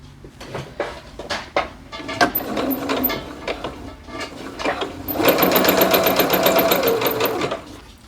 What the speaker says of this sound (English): I'm going to get the longest stitch length. For me, it's a 5. So I'm going to do the basting stitches.